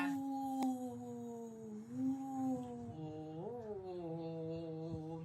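An old dog, a 15-year-old female, howls in long sustained wavering tones that rise and fall, loud and close, with no talk over it.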